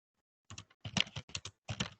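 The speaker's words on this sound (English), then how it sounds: "there's someone typing without being muted" Someone on an unmuted webinar call typing on a computer keyboard, bursts of quick close clicks in irregular clusters after a brief silence.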